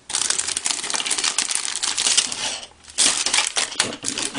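Noisy plastic packaging around a magazine and its miniature bases being unwrapped, crinkling and crackling up close in loud bursts, with a short lull partway through and no talking.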